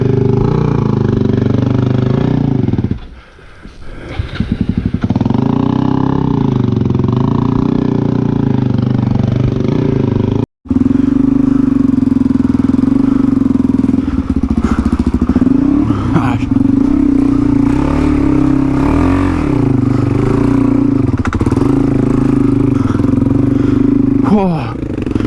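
An adventure motorcycle ridden on rough trails in NSW, Australia, its engine droning loud and steady with revs rising and falling, a brief cut-out midway, wind and clatter throughout and a rider speaking over it.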